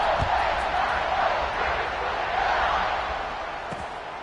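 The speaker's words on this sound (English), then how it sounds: "this crowd is buzzing after that last score" A football stadium crowd buzzes after a score, a loud, steady roar of many voices that holds for several seconds with a slight dip near the end.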